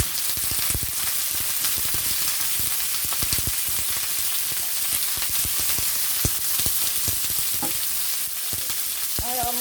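Onions frying in a pan on the stove for Jamaican escovitch sauce, a loud, constant sizzle with scattered pops and stirring scrapes, close up and without talk.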